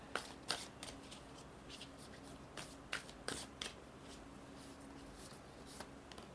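Tarot cards being shuffled and drawn, a string of crisp riffling flicks and snaps in irregular bursts, close and fairly quiet, with no voices.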